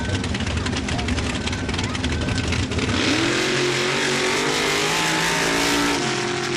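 Mud drag truck Tickled 2 roars down the track at Laporte, Indiana, a loud rising engine howl building after a rumbling launch, with an announcer's voice over it.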